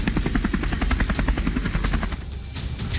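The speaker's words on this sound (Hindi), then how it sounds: "पंजशीर घाटी के ऊपर हेलीकॉप्टर उड़ते देखे जा सकते हैं" Helicopters flying over the Panjshir valley, a loud close rotor chop pulsing in a fast, even rhythm over a deep engine rumble, fading slightly toward the end.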